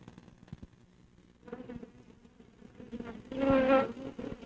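A swarm of desert locusts gives a buzzing insect drone that rises from a faint hum to a loud, dense whir near the end.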